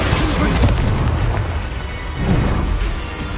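Booming blasts from the Confringo spell in a wizarding video game, a continuous rumbling burst with a second swell of impact partway through, loud and with no speech over it.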